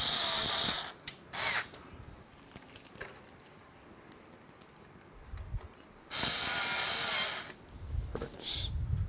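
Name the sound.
driving screws while building a PC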